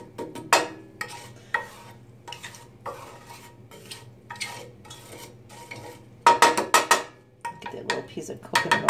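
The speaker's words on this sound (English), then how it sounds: "I'm just going to get those a little cooked in the oil here" Cumin seeds and asafoetida cooking in hot coconut oil, a faint sizzle under repeated scraping and clinking of a metal utensil against the pan, with busier, louder stirring toward the end.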